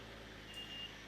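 A lorry reversing nearby, its steady intermittent warning beeps sounding over a constant low engine rumble and the whir of a fan, with no talking.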